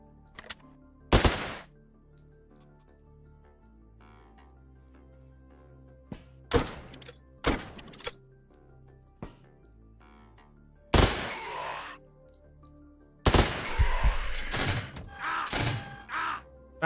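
Gunfire from a gun in the tactical game Quasimorph on Unfair difficulty: a handful of sharp, loud shots and short bursts scattered across the stretch, with quiet low background between them and no talk.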